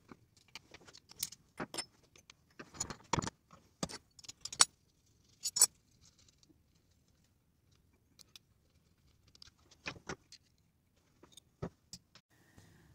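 Small metal parts of a Shimano 7-speed bicycle hub clink and click as it is taken apart, a scatter of sharp, close taps and rattles with quiet pauses between them.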